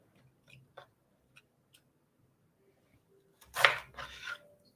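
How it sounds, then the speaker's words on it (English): A knife roughly chops zucchini, with a few scattered light taps followed by a louder cluster of close cutting and scraping strokes, no talking over it. "Just chopping it roughly"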